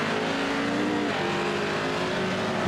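A Pro 4 off-road racing truck roars at Sonoma Raceway, its engine held at a steady loud high-rev drone, close and continuous without any speech over it.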